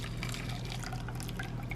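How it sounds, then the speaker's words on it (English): Browned butter poured from a pan into a bowl, a short, steady, close liquid trickle and drip with no talking. "now I'm just gonna pour this into the bowl"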